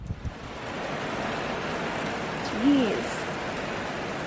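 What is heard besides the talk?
wind gust at anchor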